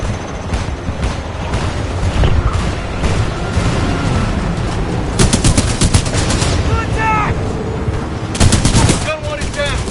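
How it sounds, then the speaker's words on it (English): Gun emplacements in the video game Titanfall 2 fire steady, loud bursts of automatic gunfire with sharp cracks and booms, layered over a rumbling battle din, with no voices. "we can't move up while those guns are firing"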